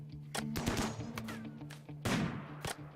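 Gunfire in the video game Rimworld during a desert siege battle, a rapid string of sharp cracks and thuds in irregular bursts, loud and close, layered over a low droning game soundtrack.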